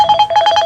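A phone rings loudly and close by with a rapid, repeating electronic trill pulsing several times in quick succession.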